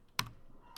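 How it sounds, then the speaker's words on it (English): Two crisp keystrokes on a computer keyboard while a command is entered at a command line, close and isolated, with a short pause between them. "I'm inputting at the command line with the keyboard"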